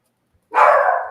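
A dog gives a single loud, close bark that holds briefly and then trails off, with silence before it.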